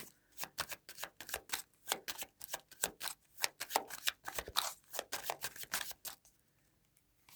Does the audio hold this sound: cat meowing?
no